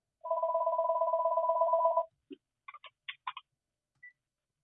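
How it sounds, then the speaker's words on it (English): A telephone rings with a steady two-tone electronic trill for about two seconds, clear and close, then falls silent apart from a few short clicks and beeps. "I think he's got a phone call there"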